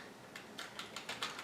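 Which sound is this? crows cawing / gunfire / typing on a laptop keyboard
typing on a laptop keyboard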